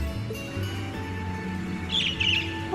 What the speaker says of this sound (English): Oh, it's a pretty bird.